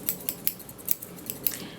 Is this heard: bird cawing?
no